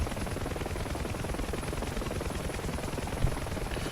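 A helicopter with power at idle during an autorotation gives off a dense, continuous rotor and engine roar, steady and close throughout, with a brief thump near the end.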